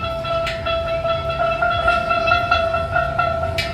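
Many steelpans struck together on the note E, a bright, overlapping metallic ringing with scattered uneven hits from a crowd of players at an amusement park show.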